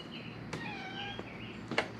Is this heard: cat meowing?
yes